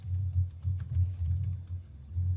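Quick, soft keystrokes of typing on a computer keyboard over a low steady hum, a continuous patter of light taps throughout.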